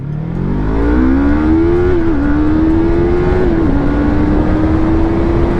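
Yamaha R3 motorcycle launching hard in a 0 to 60 run, its engine whine climbing through the revs with brief dips at gear changes, loud and close throughout.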